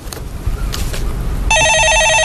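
A telephone rings in a steady electronic pattern, loud and close, starting partway through after a stretch of muffled room noise, with no one talking over it.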